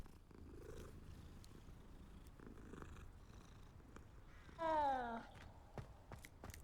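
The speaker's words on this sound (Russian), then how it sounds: "Это просто гладить кота" A cat purrs steadily as it is petted in Hogwarts Legacy, a soft continuous rumble with a short meow-like chirp near the end, under quiet game ambience.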